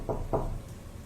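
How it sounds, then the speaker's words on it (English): Two quick knocks on a door, close and distinct, spaced about a quarter second apart, followed by quiet room tone. "there was a knock at the door"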